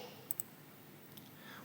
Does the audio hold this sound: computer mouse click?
yes